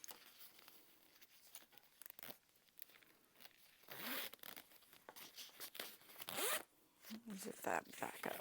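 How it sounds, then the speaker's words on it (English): A zipper runs along a freshly sewn handbag in a quiet sewing room, producing several short, close rasping strokes in quick bursts with soft rustling between them. "Zip that back up."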